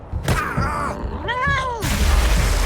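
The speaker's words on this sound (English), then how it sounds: "Kitty cat's having a go." A hostile cat attacks in the post-apocalyptic game Wasteland 3, letting out two drawn-out snarling meows in succession, followed by a heavy impact thud and rumble, loud and close over game ambience.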